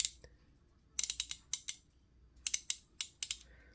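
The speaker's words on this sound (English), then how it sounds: "There's a nice healthy click into place as you switch back and forth between forward and reverse" Crisp metallic clicking from a reversible Craftsman V-Series offset ratchet wrench as its lever is flipped between forward and reverse, bursts of rapid clicks in two separate groups, close and clear with no voice.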